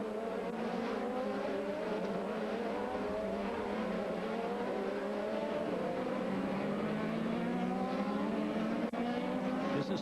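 IndyCar race cars at racing speed at the 2008 Nikon Indy 300, a loud continuous engine roar with rising and falling pitch sweeps as cars pass, dense and sustained throughout with no pause.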